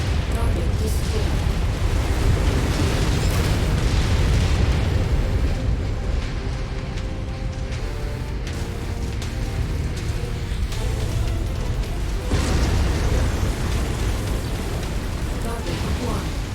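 Dense, sustained rumbling booms from a destroyed target in MechWarrior 5, continuous heavy low blasts and crackling debris across the whole stretch, loud and close, with a brief dip midway before another surge.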